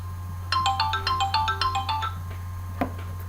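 A phone ringtone plays a quick melodic run of bright electronic notes close by over a steady low hum, then stops with a single tap.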